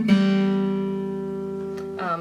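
Guitar notes from a riff, plucked on the G and E strings: one clear note rings out and decays steadily over about two seconds, followed by a brief scrape of string noise.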